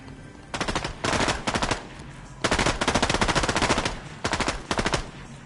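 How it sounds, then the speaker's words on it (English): Nonstop automatic gunfire in a shooter video game, loud bursts of rapid machine-gun fire separated by short pauses, no talking. "I have no idea where the shooting is going on, but I just hear it non-stop."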